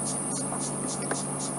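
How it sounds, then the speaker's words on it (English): Cicadas and grasshoppers stridulate at dusk beside a termite mound on an African safari, making a dense, steady insect drone with a high whine pulsing in a regular rhythm, continuous and fairly close, with no voices. "those are probably cicadas, different species of cicadas"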